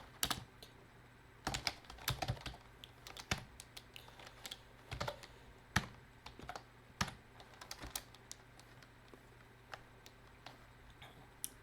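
Typing on a computer keyboard at a terminal: a fairly close, quiet string of irregular key clicks and taps with scattered louder strokes, heard alone with no talk.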